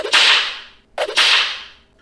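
Two sharp cracks of stagecoach whips snap out about a second apart, each a loud close burst that trails off quickly, with no voices around them.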